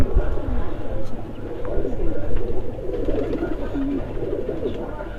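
A myna-line pigeon, a high-flying racing breed, coos repeatedly at close range while someone talks over it.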